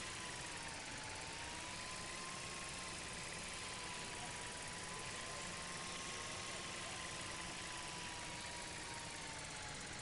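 A small camera drone whirring through the air over a school campus in the video game Life is Strange, its continuous buzzing whine rising and falling slightly in pitch, steady and moderately close throughout.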